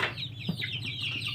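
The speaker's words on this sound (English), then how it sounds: "Check out our baby chicks." Young chickens cluck and peep softly in a coop, a steady close chorus of small calls.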